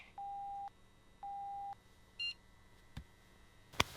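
A phone gives message notification beeps: two steady mid-pitched tones of about half a second each, then a short higher chirp. A few faint clicks and a sharp tap follow over a quiet hum.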